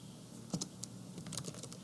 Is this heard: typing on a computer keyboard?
yes